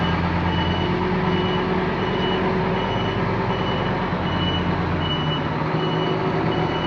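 A haul truck backs up on a haul road with its backup beeper sounding steadily, the loud diesel rumble constant throughout and the beeps repeating evenly under the engine noise.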